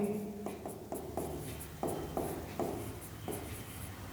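Chalk writes a definition on a classroom board in short, separate scratchy strokes and taps with brief pauses between them. The sound is close and fairly faint over a low room hum.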